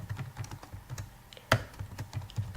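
Rapid computer keyboard typing as a name is entered, a steady patter of close key clicks with one sharper, louder keystroke midway.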